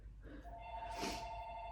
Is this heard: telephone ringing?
yes